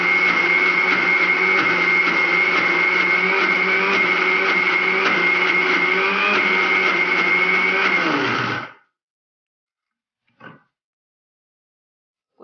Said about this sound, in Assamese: এইখিনি মই মিক্সিত পিচি ল'ম